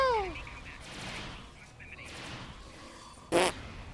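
A turret fires in the Star Trek Online video game. Game effects rumble through the scene before one sharp, loud burst cracks out near the end.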